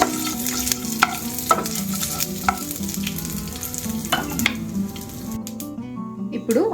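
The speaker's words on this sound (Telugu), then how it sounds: "తాలింపు గింజలు కొంచెం వేగిన తర్వాత శనగపలుకులు యాడ్ చేస్తున్నాను." Peanuts and tempering seeds fry and sizzle in a pan while being stirred, with scraping clinks over the steady crackle and a quieter stretch near the end.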